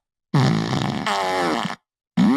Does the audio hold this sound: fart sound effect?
yes